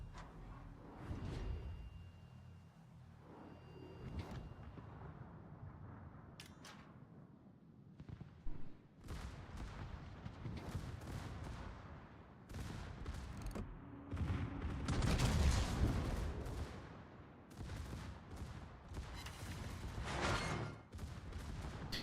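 Rapid secondary gun batteries on warships in the World of Warships naval battle game fire in dense, overlapping volleys and booms, building to a loud peak midway with whooshing shells, no talk over it.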